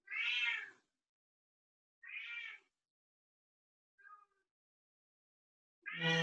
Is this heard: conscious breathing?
no